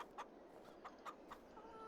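Chickens in a farming video game cluck in a few short, soft bursts at a steady, scattered pace over quiet background ambience, with no talking.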